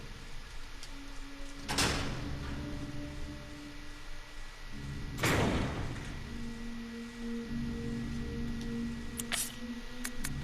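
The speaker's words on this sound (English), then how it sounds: "these double doors over here that we now unlocked" Double doors opening in the Resident Evil 0 video game, two loud sweeping swishes a few seconds apart over a humming tonal ambience, followed by faint clicks.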